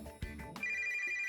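A phone in a video game gives a short electronic ringtone, a few quiet chiming tones after a brief thump, with one sustained tone held to the end.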